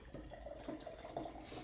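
Nitro beer hard-poured from a freshly opened can into a glass, a steady close liquid rush and fizz with gurgling splashes, no talking.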